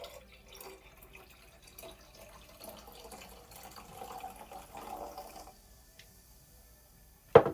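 Tea poured from a pot in Tavern Talk, a soft, faint trickle of liquid running for several seconds, fading out before a brief sharp click at the end.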